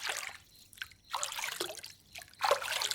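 Warm water mixed with oil poured into a container, a soft trickling and dribbling that comes in three separate bursts with short quiet gaps between them, close by and fairly quiet.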